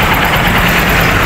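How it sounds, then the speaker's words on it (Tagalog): A 2025 Honda Supremo 150 motorcycle engine idles nearby, a loud, smooth, even hum with no revving. "Yung makina niya tahimik lang, oh."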